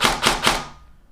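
Airsoft gun powered by a LiPo battery firing semi-auto, three quick sharp cracks evenly spaced, close and loud, followed by a short fading tail into quiet.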